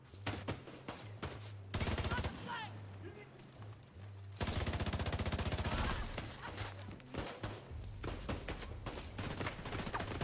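Automatic weapon fire in The Division 2 comes in dense, loud sustained bursts, with long rapid rattling volleys alternating with shorter choppy strings of shots over a low game soundtrack.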